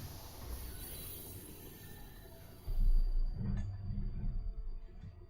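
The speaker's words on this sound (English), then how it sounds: "These trains were never meant to run non-stop like this." A train rolls steadily along its rails in 1000xResist, a continuous low rumble with faint wheel squeal, then a heavier thump and clatter as the carriages jolt partway through.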